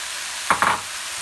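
Canadian bacon and fried rice hiss and sizzle in a hot pan, with two quick bursts of stirring and scraping amid a steady background frying hiss.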